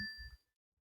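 A phone notification chime goes off once. It is a bright, clear ding with a short ringing tail that fades within half a second, over a faint low murmur, and then silence follows.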